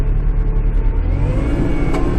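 A Kubota tractor engine works hard under load in low range, a loud, steady low-pitched drone with a rising mechanical whine, continuous and close throughout.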